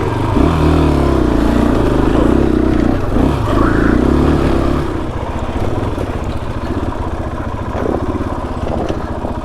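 A dirt motorcycle grinds along a singletrack trail in Baja Mexico, its engine droning loud and steady near the rider, then easing to a lower, rougher chug as the bike coasts downhill.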